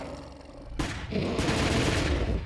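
Gunfire in the online game Anarchy Online, a quiet hum giving way to a sudden burst of rapid, sustained shots that continues loud and dense to the end, no speech.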